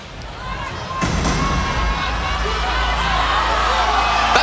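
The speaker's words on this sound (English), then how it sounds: "Oh, listen to the crowd respond" A loud arena crowd roars and cheers after a knockout in a women's fight between Elle Brooke of England and Jully Poca of Brazil, the sustained crowd noise swelling at the moment of the finish and staying high.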